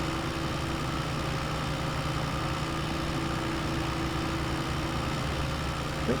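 A tractor engine runs in Farming Simulator 22, a steady, even idle hum with a low drone that holds for several seconds and stays fairly quiet, with no talking.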